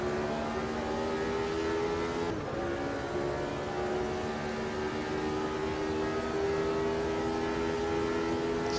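Turbocharged Formula One race car engines in Automobilista 2 (AMS2), 1983 Italian Grand Prix, a loud sustained droning whine slowly rising in pitch with a brief dip partway through, no talking.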